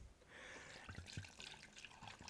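Vodka poured into a Brita water filter pitcher, a soft, close trickle and splashing of liquid with small irregular drips, fairly quiet and continuous.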